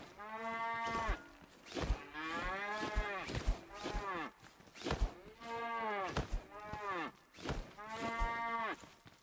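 A cow in the Scrap Mechanic video game moos repeatedly, with about five long, loud, drawn-out calls spaced a few seconds apart and no talking in between.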